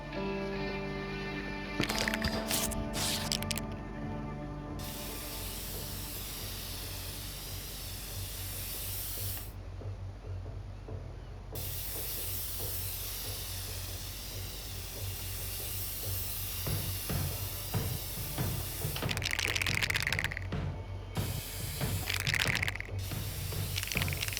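Aerosol spray cans hissing in inFAMOUS Second Son, long continuous sprays broken by short pauses, close and fairly loud over game ambience and rattling can sounds.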